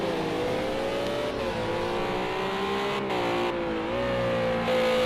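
Renault RS 01 race cars roar around a track in Project Cars 2 as one leaves the pits, loud high-pitched engine tones rising and falling through gear changes.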